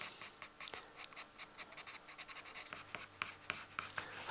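A pastel pencil scratches across drawing paper in a rapid series of short, dry strokes, close and quiet, the rhythm quickening toward the end as the pencil is dragged back and twisted.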